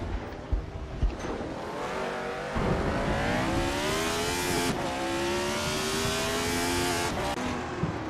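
A Tyrrell 002 race car screams through a racing video game, its engine note climbing and shifting steadily as it accelerates, loud and close the whole time with no voices.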